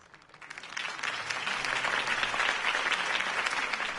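Applause swells quickly from a crowd in the video game Batman: The Telltale Series and holds steady, a dense wash of clapping with no voices over it.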